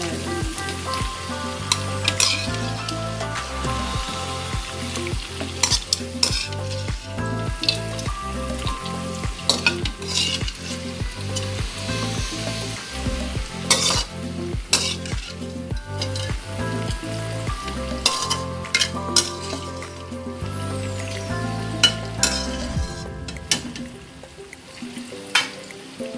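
Mutton pieces sizzle and fry in a karahi with garlic and ginger, with steady crackling and repeated scraping stirs throughout, and no talking.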